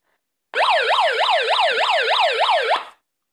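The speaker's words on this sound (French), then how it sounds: "Voilà, donc il y a une sirène." Rising-and-falling wail siren from an LTC Audio PAH106 small handheld megaphone, about ten rapid up-down sweeps in a loud, steady burst of a little over two seconds, alone with no talk.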